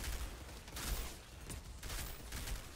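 Enemy gunfire in the Outriders video game, bursts of rapid shooting aimed at the player in repeated volleys, fairly faint and continuous with no talk over it.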